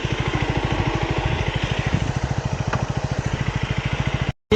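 A 2024 third-generation KTM Duke 250 motorcycle engine while riding, a loud, close, rapid pulsing thump with even rhythm under light wind noise, cutting off abruptly at the end.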